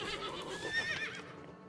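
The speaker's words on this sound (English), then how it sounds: "However, there is a horse here, which is super handy." A horse in the survival video game Above Snakes lets out a short whinny, a quick wavering squeal that rises and fades within about a second, fairly close and on its own.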